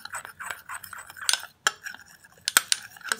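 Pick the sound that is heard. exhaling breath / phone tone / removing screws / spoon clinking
spoon clinking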